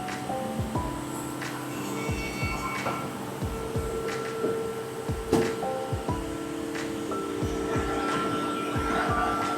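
A CNC woodworking machine finishing furniture panels in a factory, steady mechanical hum and whine with repeated thumps and clunks as tool groups engage, continuous industrial noise without speech.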